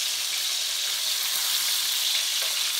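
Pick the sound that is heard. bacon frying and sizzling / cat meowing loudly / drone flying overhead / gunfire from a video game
bacon frying and sizzling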